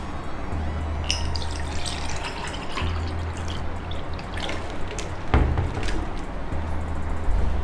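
Water poured into a glass for drinking during an indoor lesson, a short close liquid trickle and splashes around the middle, with small clinks and a low steady hum underneath.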